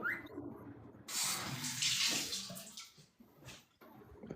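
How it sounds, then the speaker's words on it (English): Shower water running in a home during a livestream, a steady hiss of spray starting abruptly and then fluctuating, fairly faint and heard alone without talk. "Are you like getting in the shower or something?"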